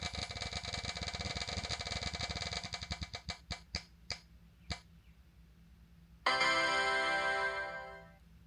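A prize wheel spins with rapid clicking ticks that slow and space out until it stops, followed after a pause by a bright, sustained ringing chime that fades away.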